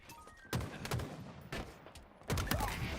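Gunfire in a Halo multiplayer ball match: several loud bursts of automatic shots at about half-second gaps, with a heavier cluster near the end, over continuous game noise.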